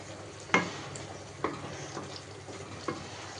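Jackfruit curry with small shrimp cooks in a covered pan, giving a faint, steady sizzle broken by a few sharp clinks and taps at irregular intervals.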